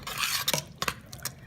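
Utensil stirring soup ingredients with chicken base in a pot for butternut squash soup, a few scraping, clinking strokes close by, with no voices.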